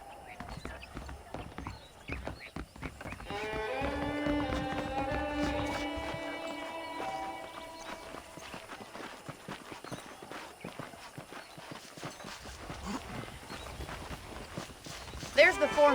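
A horse's hooves clip-clop at a steady walking rhythm while being ridden in the Western video game Red Dead Redemption, close and continuous under in-game speech and a soft musical score.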